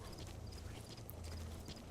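Horse hooves clop in a steady rhythm in the stealth game Metal Gear Solid V: The Phantom Pain, faint and continuous over a low ambient rumble.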